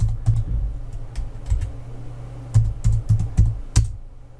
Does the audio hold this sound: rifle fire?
no